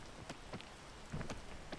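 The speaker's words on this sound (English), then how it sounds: "I think I just wait out the rain here as well" Rain in the climbing video game PEAK patters steadily as a soft wash, with a few louder drops or splashes popping out irregularly.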